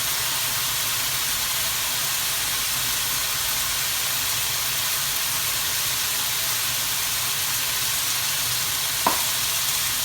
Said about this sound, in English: we're going to further cook this bacon for another 2 minutes when the butter is completely melted